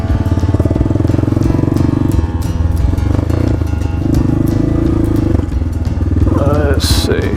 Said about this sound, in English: To crank it with the Kickstarter, it's pretty easy.